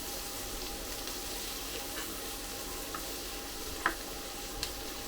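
King prawns fry in a pan for chow mein with a steady, soft sizzling hiss, broken by a few faint ticks and small pops near the end.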